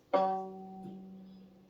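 A single bowed violin note on the low G string, starting with a firm attack and sustaining evenly for over a second before fading.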